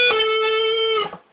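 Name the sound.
electric guitar holding fret 15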